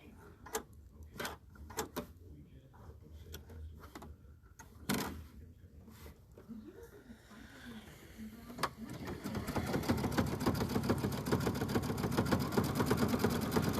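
Sewing machine running a 3-step elastic zigzag stitch on placemat fabric, starting with a few sparse clicks and short bursts, then settling into continuous rapid stitching that grows louder toward the end.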